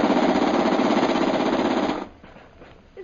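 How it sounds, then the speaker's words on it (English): Rapid machine gun burst from a radio drama sound effect, a loud continuous rattling stream of fire lasting about two seconds, then cutting off abruptly into faint background. "Fire the machine gun."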